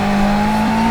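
A shrunken-down Camaro drifts with a sustained tire squeal, a steady high screech riding over loud engine noise for a brief moment, no talk.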